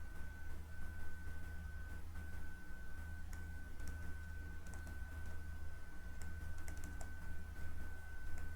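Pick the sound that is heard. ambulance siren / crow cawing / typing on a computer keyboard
typing on a computer keyboard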